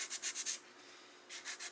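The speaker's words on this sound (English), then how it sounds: "you can still sand down a lot of this where there aren't any numbers or markings on it" An SU HS4 carburetor body is sanded by hand in quick rhythmic back-and-forth strokes, a raspy scratching that pauses briefly before resuming, close and alone.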